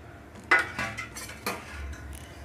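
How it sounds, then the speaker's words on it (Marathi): Grated dry coconut tipped into a kadhai on a gas stove and stirred, giving a few sharp metallic scrapes and clinks of a spoon against the pan, close and fairly quiet with no talk. "गॅसवरती एक कढई ठेवलेली आहे, त्यामध्ये खिसून घेतलेलं खोबरं आहे हे घालून घ्यायचं आहे"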